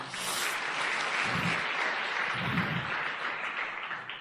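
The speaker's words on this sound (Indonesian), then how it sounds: "Tepuk tangan buat Ibu Nayunda" An audience at a motivational seminar claps in a dense, continuous burst, fairly close and even, with a couple of low muffled thumps underneath and no speech.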